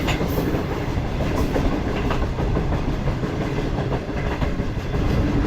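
A safari train running through the Thar Desert, a loud, continuous rumble of wheels with steady clickety-clack from the carriages, heard close and unbroken throughout.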